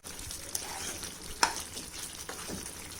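Ghee frying and sizzling in a pan of shahi white chicken korma, a steady crackling hiss with a few sharp spits and stirring scrapes, close and moderately quiet with no talking.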